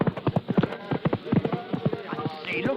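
Horse hooves clip-clop in a quick steady rhythm as a woman rides off on horseback, close and clear in a radio drama, with voices talking over the hoofbeats.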